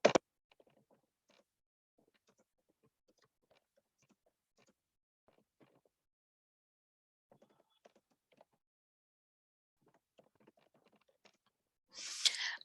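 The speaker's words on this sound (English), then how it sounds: "I'll type it in the chat." Sparse, quiet keystrokes tap out a chat message on a computer keyboard in short irregular bursts with pauses between, bracketed by brief louder noises at the start and end.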